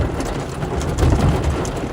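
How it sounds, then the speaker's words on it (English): Heavy rain pours steadily on a vehicle during a tornado chase in the Nebraska Panhandle, a dense, loud wash with low rumbling that swells slightly midway. "It's very rainy here"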